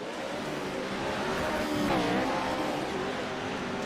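Fast race trucks roar through turn four in an off-road truck race, a dense engine drone that swells briefly as they pass, with no voices.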